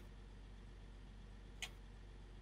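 A tractor pulling rollers drives along a road in Farming Simulator 19, a faint, steady low engine drone throughout with a brief soft click partway through.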